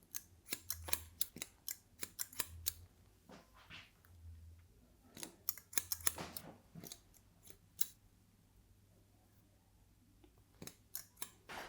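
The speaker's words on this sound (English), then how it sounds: "Last but not least, cut in the fringe." Scissors snip through hair during a men's haircut on straight, flat hair, coming as close, crisp clusters of quick cuts with short pauses between them over a quiet room.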